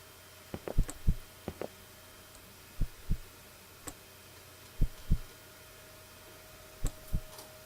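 Heartbeat effect in the horror video game One Late Night, paired thudding beats repeating at irregular intervals, close and fairly loud against a quiet low hum, with no voices.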